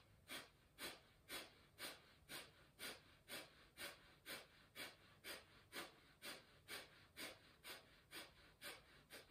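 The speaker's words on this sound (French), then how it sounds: "Une inspire courte et vigoureuse, Kapalbhati" Kapalbhati breathing: a steady train of short, vigorous forced exhalations through the nose, about two per second, evenly rhythmic and close, with no talking.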